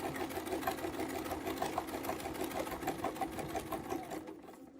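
A sewing machine stitches a quilt panel, its needle chattering in a fast, even rhythm that runs steadily near the listener, then slows toward the end.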